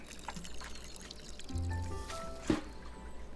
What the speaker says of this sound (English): You can try to water it